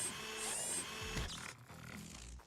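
A drill arm attack in the video game Quasimorph sounds as a dense mechanical whirring and grinding that carries on for about two and a half seconds, with a heavy low thump near the middle.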